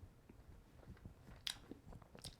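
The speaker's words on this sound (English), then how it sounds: "Chewing my gum, sorry guys." Gum chewing close to the microphone, soft irregular wet mouth clicks and smacks repeating through a quiet room, with no talk over them.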